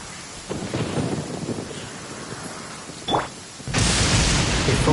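Thunder in the video game Genshin Impact: a rumbling storm under steady rain, a short sharp crack near the three-second mark, then a loud, sudden thunderclap that swells and holds to the end.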